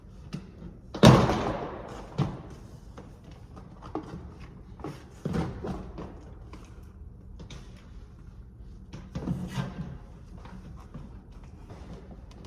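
A trim panel on an Acura RSX door is popped loose, giving one strong thump followed by scattered knocks, clicks and scrapes of plastic being worked free, close by and without talk.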